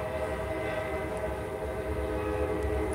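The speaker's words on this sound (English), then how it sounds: "Y'all hear that train going by?" Passing train heard from indoors: a continuous low rumble with steady tonal horn-like drone, constant and fairly loud across the moment, no speech over it.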